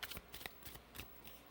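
Tarot cards are shuffled quietly in a quick series of soft riffling slaps and papery flutters, faint and close, with no voices.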